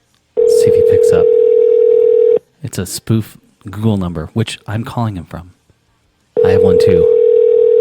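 Outgoing call placed from a spoofed Google Voice number, ringing with two long steady ringback tones, loud and close, separated by a stretch of a voice talking.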